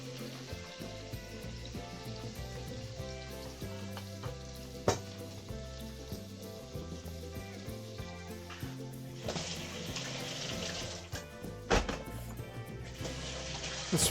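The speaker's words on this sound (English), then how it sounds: "let's fry it gently while we wash our vegetables." Garlic, onion and ginger fry gently alongside crispy pork in a pan, a close, continuous sizzle broken by occasional utensil knocks and stirring clatter, with no voices.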